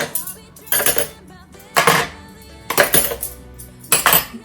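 Metal cutlery clinks and rattles as spoons, forks and knives are lifted from a utensil drawer, five distinct bursts of jangling close by, separated by short quiet gaps.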